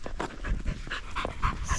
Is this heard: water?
no